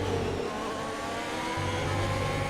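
An F1 2020 racing car engine drones at high revs, a dense continuous whine with a shift in pitch midway, loud and steady with no voices.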